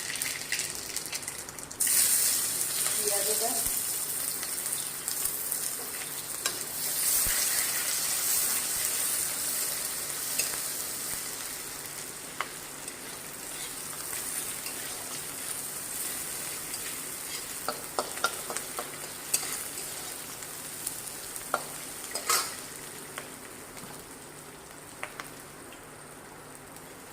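Onions and leafy greens frying in mustard oil in a pan, with a steady sizzle and intermittent scraping stir strokes throughout, close and fairly quiet, with no voices.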